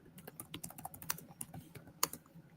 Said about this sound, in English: What are you typing on, brother?